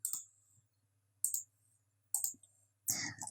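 Mouse clicks while toggling layers in Photoshop: four crisp, isolated clicks at a roughly even pace, each close and distinct against a quiet background with a faint low hum, with no talking.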